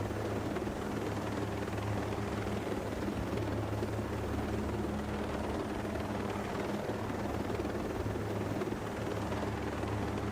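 Helicopter in Ghost Recon Breakpoint gameplay, a steady rotor drone and engine hum holding constant and fairly loud throughout, with no voices over it.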